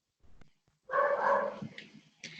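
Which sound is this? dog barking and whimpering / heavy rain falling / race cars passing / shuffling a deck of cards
dog barking and whimpering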